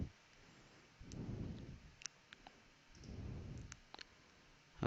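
Computer mouse clicks, a few sharp close taps spread over a few seconds during a Windows file-management task, with soft swishing and faint room noise between them.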